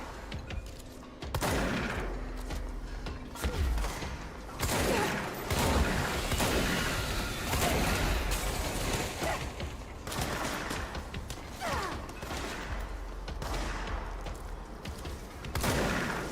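Enemy gunfire rattles through the video game Control in dense, repeated bursts, loud and continuous, with brief pauses between volleys and game sound effects layered over it.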